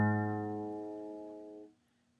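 An acoustic guitar's open A string is plucked for tuning, giving one clear ringing note that decays gradually and then is cut off short, with nothing else heard.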